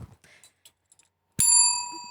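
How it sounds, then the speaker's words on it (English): After some faint scattered background sounds, one bright bell strike rings on a podcast, sharp at onset and then ringing on with a slowly fading, sustained tone. "That's the bell."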